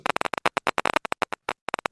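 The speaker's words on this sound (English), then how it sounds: "you can actually hear the modulation of the population with this rhythm" Firing of a hippocampal neuron population, rendered as sound under a theta rhythm: a dense train of crisp clicks arriving in loose rhythmic groups, with a brief pause before the final few pops.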